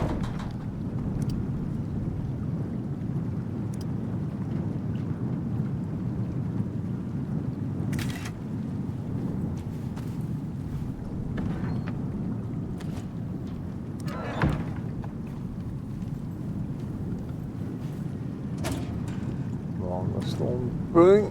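A storm in the video game Icarus, with steady wind noise and low rumbling, scattered sharp cracks and thumps, and a person talking over it at times.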